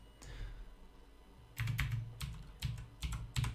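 Computer keyboard keys tapped in short bursts, a few isolated clicks first and then a quicker run of crisp, close keystrokes in uneven rhythm, quiet and with no voice.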